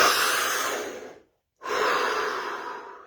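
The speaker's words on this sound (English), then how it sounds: "Here we go, deep breath." Two long, deep breaths taken during a guided scanning session, each a loud, airy rush close to the microphone, separated by a short moment of complete silence.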